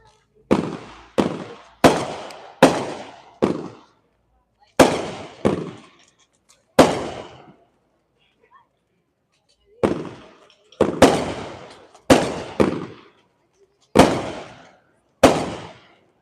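Honeybee 12 shot firework cake from Fire Factory fires about a dozen loud, sharp bursts outdoors, spaced in uneven bursts with a brief pause midway and a few faint crackles between.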